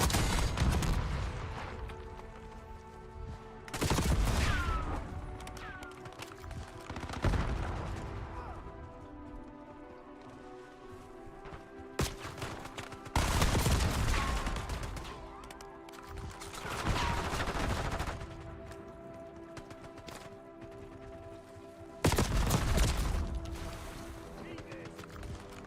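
Call of Duty match with repeated bursts of gunfire and loud volleys breaking out every few seconds over a low game soundscape, at moderate distance.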